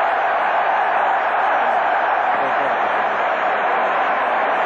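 A 50,000-strong stadium crowd at an athletics world championship in Helsinki roars steadily in rapture, a dense, continuous wall of distant cheering with no individual voices standing out.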